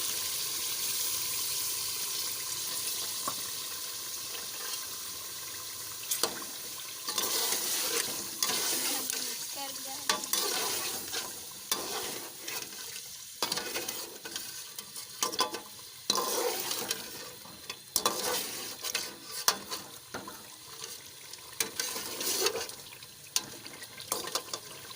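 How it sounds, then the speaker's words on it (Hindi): A cup of milk poured into hot ghee in a karahi, a steady watery sizzle and bubbling that builds into irregular spattering crackles, close and moderately loud with no talking. "अब इसमें हम ये 1 कप दूध जो लिया है वो डाल"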